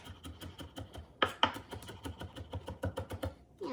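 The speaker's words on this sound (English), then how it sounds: "I don't need it too small in this recipe, so just a quick rough chop" A kitchen knife rough-chops vegetables on a cutting board for a bean stew, with quick, uneven, close-up thuds in a steady run and a couple of sharper knocks.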